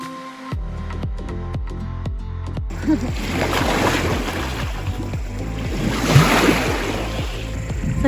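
Water splashes and sloshes as people swim in a volcanic lake, a busy near wash of churning water after a short series of rhythmic thuds at the start.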